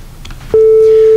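A pure synthesized sine-wave tone generated through a gain node in browser web audio snaps on abruptly and holds steady and loud, preceded by faint background noise.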